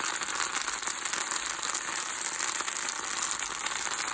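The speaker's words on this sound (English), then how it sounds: "Now what I'm going to do is fry this up for about 20 minutes." Okra pan-frying with bacon and onion gives a steady, even sizzle that holds at moderate loudness throughout, with no voices.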